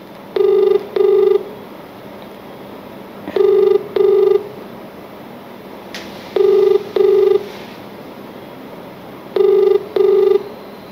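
A phone line rings while waiting for someone to pick up. Loud paired ringback tones repeat at a steady pace, four double rings in all, with no answer and no talking.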